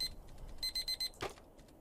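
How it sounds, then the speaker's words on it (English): An alarm clock in a video game sounds a short run of rapid electronic beeps in pulsing bursts, quite faint, followed by a dull thump, with no talking. "and then the alarm blares out of nowhere"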